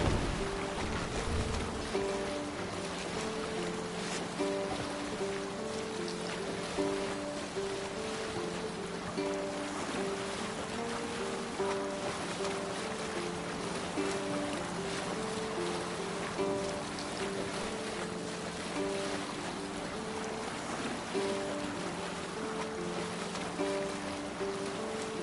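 A sailing ship moves across the open sea under raised sail in Assassin's Creed Valhalla, with a steady wash of water and wind and faint repeating tonal ambience running continuously at a low level.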